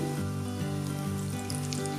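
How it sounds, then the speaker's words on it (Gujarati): Stuffed bafvada, a fasting snack, deep-fry in hot oil with a steady, close bubbling sizzle over a low continuous hum. "હવે આપણું તેલ ગરમ થઈ ગયું છે, તેમાં આપણે બફવડા તળાવવા માટે મૂકીશું"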